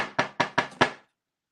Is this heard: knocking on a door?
yes